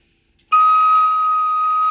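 A tenor recorder sounds a high D sharp, one sustained, pure and bright note held for about a second and a half, close and loud, starting abruptly after near silence, with no talking.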